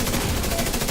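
Sniper gunfire in a firefight in The Division 2 Battle for Brooklyn, a dense, continuous loud barrage of shots with no pauses across the whole short moment.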